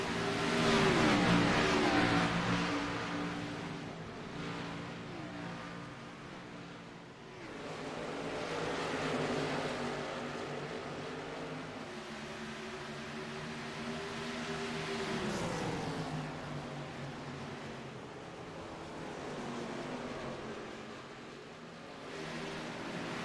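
A big pack of NextGen Xfinity Series stock race cars battles on track, engines roaring continuously with rising and falling revs as cars pass, a dense, loud drone throughout.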